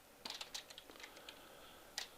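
Someone types into a form on a computer keyboard: scattered, faint clicks in a loose, uneven rhythm, a little busier at the start and end, in a quiet room.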